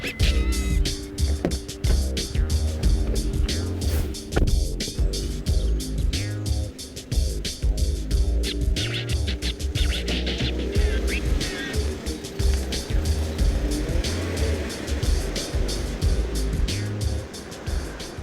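A Ford Ranger pickup truck driving on the road, with a steady engine and tyre roar alongside rhythmic clattering and thumping, loud and close, with background music.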